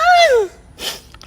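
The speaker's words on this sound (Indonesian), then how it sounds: "Namanya manusia kan, bersin wajar" A person sneezes loudly and close up, a rising vocal intake sliding down into a sharp breathy burst, followed by a brief snuffle.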